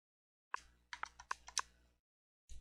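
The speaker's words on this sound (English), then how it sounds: "You can probably hear me whacking away at on my controller." Buttons on an Xbox controller pressed rapidly during an Ark Survival Evolved session on Xbox One, a quick burst of about seven crisp plastic clicks followed by a pause and one more click, close and quiet.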